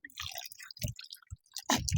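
Someone drinking water in a village setting: a few soft gulps and wet mouth sounds come in short, irregular bursts separated by silence, close to the listener.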